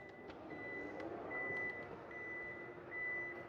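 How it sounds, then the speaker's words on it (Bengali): A Toyota Harrier's power tailgate opens to a repeating electronic warning beep: four evenly spaced, sustained tones over a soft low background rumble, with no voices. "এটা কিন্তু ব্যাকডালা পাওয়ার। সো আমরা একটু ব্যাকডালাটা ওপেন করে দেখি।"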